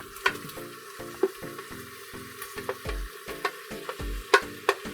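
Beef tips sizzle and hiss in an Instant Pot as they go back in, with a steady fry bed broken by clinks and scraping knocks of a utensil at irregular intervals, close and alone.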